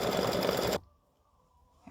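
Sewing machine running a line of top stitching, a loud steady mechanical whir that stops abruptly, leaving near silence before a faint new sound begins.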